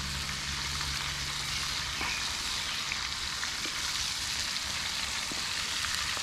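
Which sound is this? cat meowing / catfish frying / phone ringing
catfish frying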